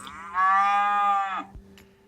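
A single cow lets out one clear, full moo lasting about a second, close and loud against quiet background hum.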